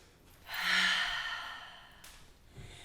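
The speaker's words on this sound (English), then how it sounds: "taking some deep breaths" A single deep breath drawn in slowly and let out in a soft, long exhale during a guided body movement class, quiet and close with no talking.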